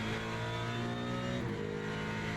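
A Mustang race car engine in Le Mans Ultimate revs hard and loud, a steady droning howl that dips briefly mid-way as it shifts gear, then keeps pulling.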